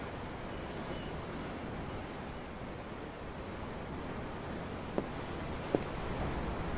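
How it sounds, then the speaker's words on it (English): Ocean waves wash steadily in the Tales of Arise video game, a continuous soft rushing surf with a breezy hiss, with two faint brief clicks near the end and no talking. "The ocean? Yeah. The waves."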